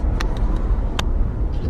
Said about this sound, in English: And here's Lexington traffic.